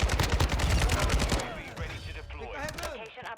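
The Kastov 762 rifle fires in a loud rapid automatic burst in a video game, then the shooting gives way to scattered distant shots and game effects under a voice.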